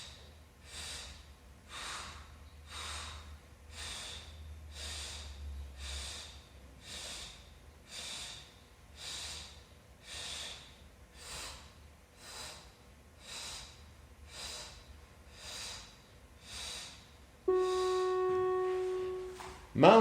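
Rhythmic forceful exhalations during a pilates workout, one about every second and a half, close and steady over soft background noise, ending in a brief burst of tonal sound.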